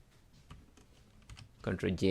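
Computer keyboard keys pressed for a Photoshop Ctrl+J shortcut: scattered soft clicks at first, then a louder cluster of key taps toward the end, with faint background noise.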